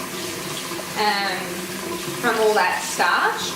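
Rice being rinsed by hand in a bowl of water to wash off starch, with soft swishing and sloshing heard under a person speaking.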